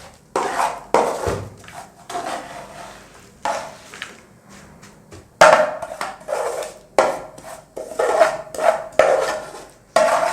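Oiled mixture scraped and tipped out into a tray, a run of short scraping, clattering knocks of utensil against metal, fairly close and moderately loud, coming in irregular bursts with brief quiet gaps.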